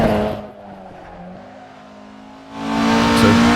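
Ford Escort race car in Assetto Corsa driven hard at speed, its engine droning loudly, easing off briefly mid-clip, then surging back with rising revs.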